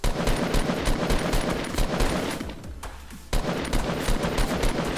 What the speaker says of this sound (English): firing a few like random shots